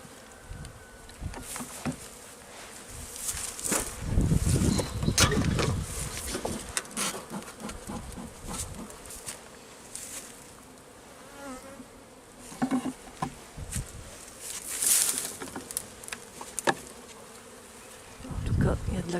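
Honeybees buzzing in a hive at winter's end, a steady dense drone with individual bees flying close past, rising and falling in loudness throughout.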